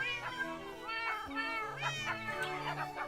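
Cats meow repeatedly in a video game, a string of rising and falling mews close together, accompanied by a steady low musical drone and some talking.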